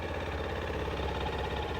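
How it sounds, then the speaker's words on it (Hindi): TVS Apache RTX motorcycle engine idling, a steady mid-pitched putter with an even pulsing rhythm, heard close and alone without talk. "आइडियल कंडीशन पर इंजन साउंड सुनो"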